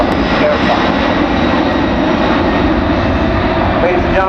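A C-17 Globemaster military jet transport banks through a tight 360-degree turn at about 175 mph, its engines producing a loud, steady broadband roar with a whining tone on top that holds without a break from start to finish.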